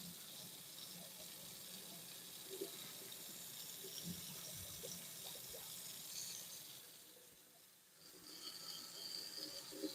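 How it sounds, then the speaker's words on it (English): Cold water runs steadily from a kitchen tap into a sink while hot pasta water is drained, a continuous broadband rush with small splashes, dipping briefly before resuming. "I like to run a little bit of cold water when I drain my pasta water into the sink"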